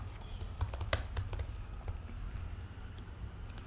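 Typing on a computer keyboard: a quiet run of light key clicks in an irregular rhythm, with a few sharper taps, alone without talk.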